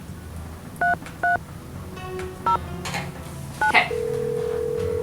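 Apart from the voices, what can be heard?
telephone dialing in the video game Nancy Drew: The Final Scene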